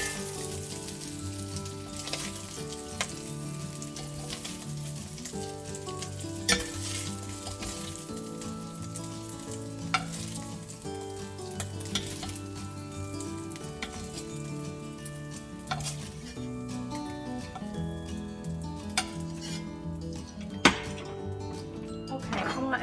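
Beef searing in a pan for carne guisada, a steady close sizzle and frying crackle with occasional utensil clinks and stirring.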